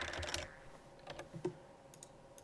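Computer keyboard keys pressed to free a stuck Alt key during Minecraft play: a quick burst of several clicky keystrokes at the start, then a few scattered single taps, close and fairly quiet.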